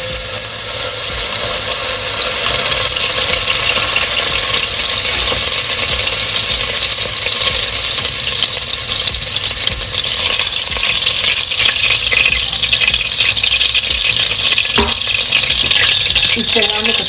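Butter sizzles in hot oil in a pot for Bombay biryani, a loud, continuous frying hiss with steady crackle close by and a faint low rumble beneath.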